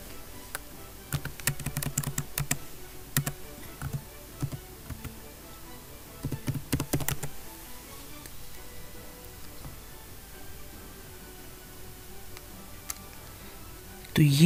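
Bursts of quick key taps on a computer keyboard while typing a browser search, with clusters of clicks spread across the first seven seconds, followed by quieter ticking and a faint background.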